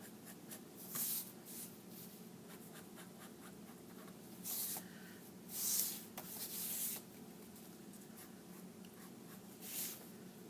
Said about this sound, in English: I'm just going through very quickly, sketching in the lines.